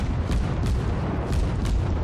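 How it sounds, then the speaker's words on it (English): Naval guns on World of Warships armoured cruisers fire volleys and broadsides, heavy deep booms rolling under a dense, constant battle rumble, with several thumps spaced through it. "I'm firing volleys at it, and it's firing broadsides at me."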